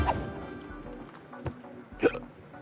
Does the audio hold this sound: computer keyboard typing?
no